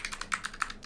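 Code is typed on a computer keyboard in a quick run of about ten crisp, close keystrokes at an uneven rhythm.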